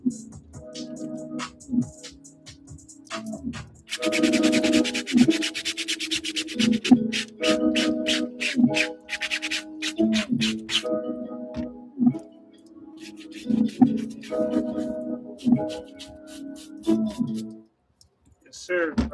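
A brush scrubs sneaker fabric during cleaning in rapid rhythmic scratchy strokes, loud and close, coming in bursts while a person talks intermittently.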